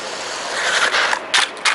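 A small, fast WLToys 144001 RC car racing and drifting, its high-pitched electric motor whining steadily, with sharper surges and skidding scrapes in the last half-second, close and loud with no talk.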